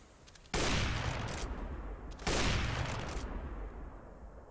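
Gunfire in a first-person shooter video game comes as two loud, dense bursts of rapid shots, each trailing off into a fading rumble.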